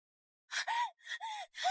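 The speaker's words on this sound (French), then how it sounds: "Une respiration très lourde." Very heavy, labored breathing from a frightened person, three ragged gasping breaths in quick succession, close and fairly loud with no talking.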